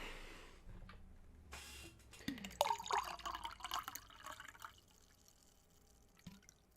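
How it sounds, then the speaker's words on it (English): Water pours from a tap into a glass for a refill, with a short splashing fill at first, then soft trickling, drips and faint clinks, close and fairly quiet. "Refilling my water."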